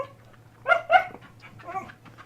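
A dog gives two short, sharp barks close by, followed by a softer whimpering yip, with a low steady hum underneath.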